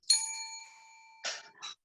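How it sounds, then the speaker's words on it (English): A bell is struck once, ringing out clearly with a bright tone that decays over about a second, followed by two brief softer knocks or handling sounds. "when I feel that I've accomplished something, I ring the bell"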